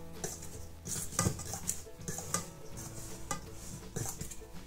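Flour, baking powder and salt for butter biscuits are stirred in a bowl, giving light, uneven scraping and clinking of a utensil against the dish, close and fairly quiet.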